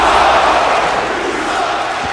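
A wrestling crowd in Chicago reacting to Roman Reigns, a loud continuous roar of many voices filling the arena with no break.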